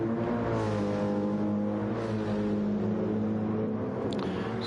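Race cars in Gran Turismo 7 roar continuously during an eDTM lobby race, a dense layered engine whine with shifting pitch as several cars run close together, loud and without talk.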